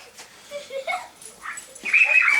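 A dog whimpers and yips in short, high, whining bursts that grow louder toward the end, close by in a workshop where an RV-10 aircraft is being built.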